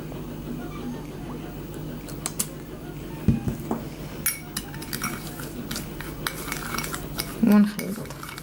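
Spoon clinking and scraping in a bowl while almond oil and olive oil are stirred together, light irregular taps over a soft steady background.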